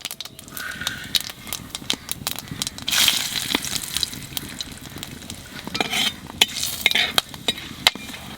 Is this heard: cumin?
yes